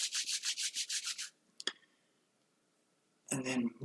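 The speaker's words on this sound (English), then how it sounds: "Bring your hands together, rub your hands, gather some chi" Two palms rub briskly together in about eight quick, even strokes, close and crisp, then a click, a pause, and a calm voice begins talking.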